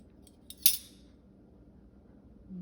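Spoons clinking together, a couple of faint taps followed by one bright metallic clink, then quiet with low background hum.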